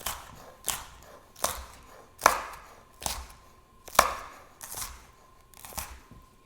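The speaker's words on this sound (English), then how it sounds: "So this one will just, I don't know, kind of mince up, chopped into small pieces." Knife chopping ingredients into small pieces for baked potato soup on a cutting board, a steady series of about eight crisp, close chops spaced under a second apart, with no talking.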